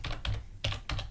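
Clustered keystrokes on a computer keyboard come in three quick bursts of clicky taps at close range, with short gaps between them.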